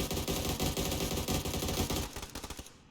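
Sustained full-auto bursts from an AUG assault rifle in PUBG, a loud rapid string of shots for most of the stretch, thinning into separate cracks at the end, with no talking over it.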